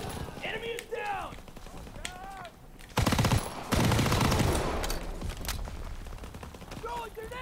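Thompson submachine gun fire in the Call of Duty WW2 video game: bursts of rapid automatic shots mixed with other gunfire, running footsteps and battle noise, while a player talks over the action.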